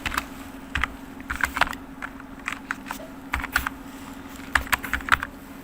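An email address is typed on a computer keyboard, with quick bursts of close, clicky keystrokes separated by short pauses and no voice over them.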